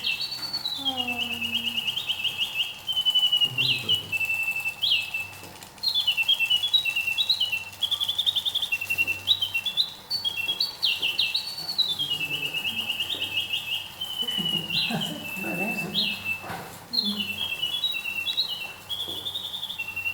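A mechanical singing bird automaton imitates a nightingale, trilling and chirping in quick repeated phrases with short pauses, accompanied by faint mechanical rubbing and clicking from its works.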